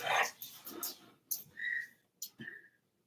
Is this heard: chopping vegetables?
no